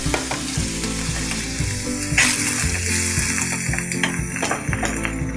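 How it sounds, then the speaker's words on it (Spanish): Shrimp sizzle and crackle in hot olive oil, garlic-style, loud and close, with scattered pops and stirring clatter over a continuous frying hiss. "Ya está mi aceite caliente, le, le voy a vaciar los camarones."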